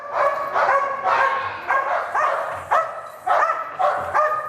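A police dog barks and yips in rapid, agitated bursts at close range while a decoy provokes it during bite training, the barks coming in a steady repeated rhythm with brief whimpering edges.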